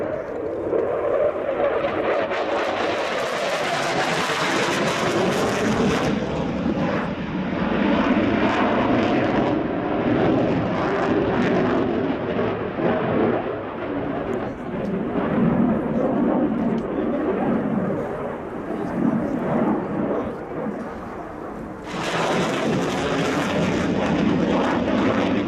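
A Dassault Rafale C French Air Force fighter jet in a flying display at the RIAT 2017 airshow, roaring loudly and continuously overhead with a powerful sustained engine rush that swells and shifts in pitch as it passes.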